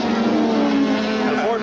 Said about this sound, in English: Ford Probes dashing side by side.